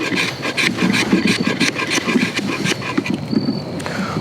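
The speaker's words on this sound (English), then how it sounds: "we're gonna see how well it scrapes some fat wood" A Jeo-Tec No 29 Spanish survival knife scrapes steadily across a stick of fat wood, producing a rhythmic series of close, raspy strokes.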